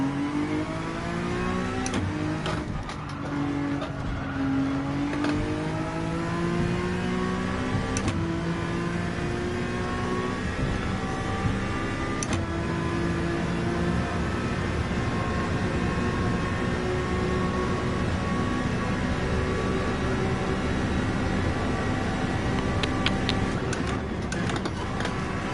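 A race car engine in Gran Turismo 7, droning steadily with its pitch sliding up and down through gear changes, loud and continuous with brief clicks early on.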